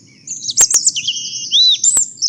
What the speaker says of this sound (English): So I always imagine robins singing underwater